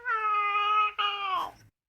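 A human voice imitates a cat's meow: a drawn-out, tonal mew that breaks once and ends in a falling, breathy tail. Close and clear, with no other talking.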